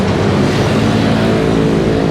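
Traffic roars on a nearby main highway, a loud, continuous broadband rush of passing cars with no breaks, steady and close.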